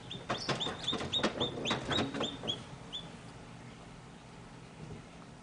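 Newly hatched baby chicks in an incubator, a quick run of high, bright peeps clustered early, then thinning out and trailing off toward quiet near the end.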